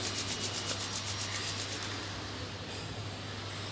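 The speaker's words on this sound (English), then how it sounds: "you can rub your palms together and make some heat in between them." Palms rubbing briskly together, a steady close-up rasping friction that holds evenly for a few seconds and then eases slightly, with no voices.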